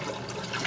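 Water gushes from an aquarium overflow pipe in a dual Durso setup at a high rate, a steady close rush with no talking.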